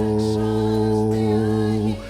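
Phone piano app sounding the key note A, a held harmonic tone lasting about two seconds that cuts off abruptly, with no speech over it.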